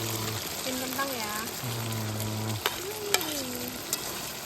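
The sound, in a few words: stirring potatoes frying in a pan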